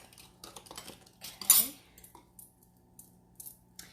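Metal utensils clink and scrape against a bowl while rapini is tossed with Parmesan cheese, a few soft close taps and one louder clatter in a quiet kitchen.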